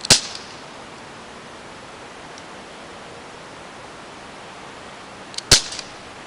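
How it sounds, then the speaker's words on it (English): Two sharp, crisp snaps from a Crosman Powerline 15XT BB gun being fired, one at the very start and another near the end, separated by a long stretch of quiet outdoor hiss. "So that's my shooting test of the powerline."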